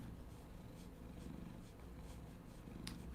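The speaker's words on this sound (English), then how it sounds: "Oh, hi, kitty. We're getting some purrs." A cat purrs steadily and softly up close, a continuous low rumbling throb that runs unbroken for several seconds with no voices over it.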